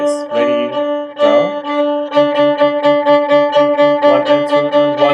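A violin saws out rapid sixteenth notes on its open D string, starting with a couple of longer strokes before settling into a fast, even pulse of short bow changes on one ringing pitch, close and unaccompanied.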